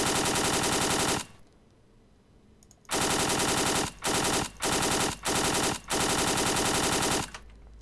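Rapid, loud automatic fire from a WW2 machine gun in the Arma 3 video game, mounted on a tripod, in several sustained bursts of very fast shots, separated by brief pauses.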